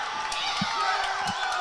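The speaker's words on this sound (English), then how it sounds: "This crowd has gotten loud as finally they've broken through" A crowd at a high school boys soccer game roars in sustained cheering, with a commentator's voice running over the noise.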